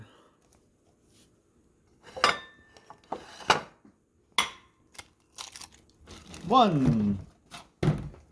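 Eggs drop and get stirred into ricotta in a bowl, with scattered thunks and clinks of utensils against the dish between short bits of conversation.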